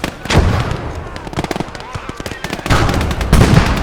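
Tank cannon fire in the Gates of Hell multiplayer battle game: a few sharp, loud booms separated by quick bursts of smaller crackling gunfire, with a voice talking over the combat.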